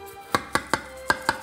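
Knife strokes cut through cooked food on a board, about seven crisp, evenly spaced chops close by, with a brief pause midway.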